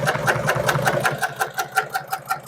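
An upholstery sewing machine stitches boat bench seat vinyl in a fast, steady run of mechanical clatter, each needle stroke clearly separated, close and fairly loud with no talking.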